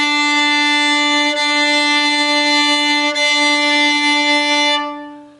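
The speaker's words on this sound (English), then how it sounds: "You can even try playing the two strings at once." Fiddle bowed on two D strings at once, an octave apart, a single steady sustained double-stop held loud and close for about five seconds before fading out.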